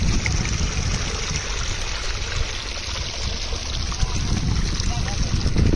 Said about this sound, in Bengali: দেখো এই যে এই জমি থেকে জল এই জমিতে নিচ্ছে